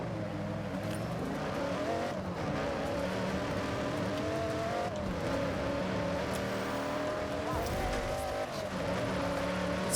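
Cars tearing through a Forza Horizon 6 street race, engines roaring and revving continuously with shifting pitch as they accelerate, with tire squeals and skids breaking in over the steady loud drone.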